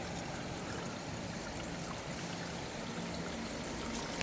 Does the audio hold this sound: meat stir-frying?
no